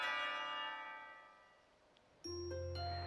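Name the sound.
school bell ringing in the visual novel game Katawa Shoujo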